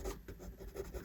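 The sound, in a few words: pencil drawing lips on paper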